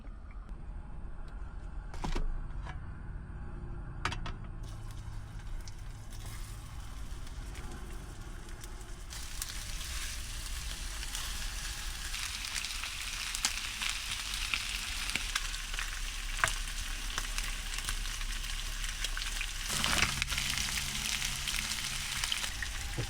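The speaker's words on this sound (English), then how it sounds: "So let me get a nice sear on these bones first," Beef soup bones sear in an Instant Pot inside a camper van, a low crackle that swells about halfway through into a loud, continuous sizzle with occasional sharp pops.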